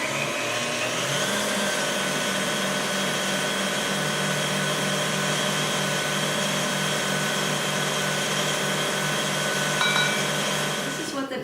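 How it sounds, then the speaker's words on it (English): An electric mixer beats egg whites with sugar at medium-high speed, giving a loud, continuous, even motor whir that runs steadily throughout. "add 1 cup of sugar gradually to the mixer, still beating it at medium-high"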